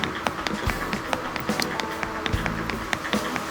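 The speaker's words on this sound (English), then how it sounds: "I could listen to the sound of footsteps in this game, like, forever" Steady run of footsteps in a Terraforming-style game, crisp taps falling in quick regular rhythm with a few heavier thuds, close and clear with no talk.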